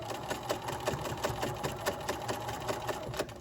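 A sewing machine topstitching fabric with black thread, running steadily with a rapid, even stitching rhythm throughout, close and moderately loud.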